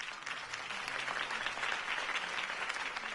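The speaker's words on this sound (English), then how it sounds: "If only Mr. Wayne, my campaign's largest backer, could have heard that applause" Sustained applause from an audience following a campaign speech for a city election, steady and dense throughout with no voices standing out.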